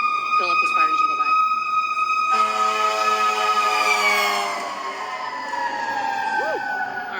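A fire engine siren wails and sweeps as the truck passes nearby, its pitch falling as it moves off, sounding loud and continuous over the whole stretch.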